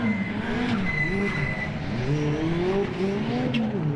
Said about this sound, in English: The second group of supercars blasted away from the line